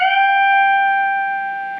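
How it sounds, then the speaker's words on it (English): A guitar note on the 13th fret of the high E string rings out clean and sustained, fading slowly over nearly two seconds with no other sounds. "We're going to come down to the 13th fret of the high E string, and we're going to pluck this up a whole step."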